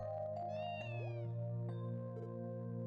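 A cat meows in the video game Trails From Zero, a short tonal call set against a steady musical and ambient game background, with no talking.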